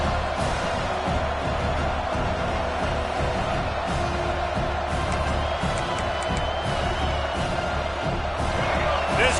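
A stadium crowd in a college football video game roars in a steady, dense wash of cheering and noise, loud and continuous, with commentary voices talking over it.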